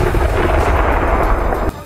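Loud, sustained roar of an artillery cannon firing shells during a Ukrainian military drill, a dense rumbling boom filling the whole stretch before cutting off abruptly near the end.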